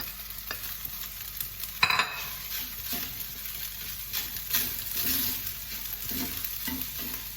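An egg is fried into egg fried rice, with a steady close sizzle under stirring and scraping, a sharp clatter near two seconds, then continued frying and tossing.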